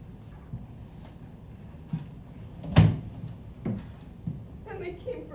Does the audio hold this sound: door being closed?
yes